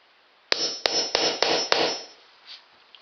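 A hammer taps an old popped drywall nail back into the wall: five sharp, evenly spaced strikes close by, each with a short bright ring, then quiet.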